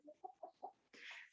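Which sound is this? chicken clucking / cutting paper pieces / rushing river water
chicken clucking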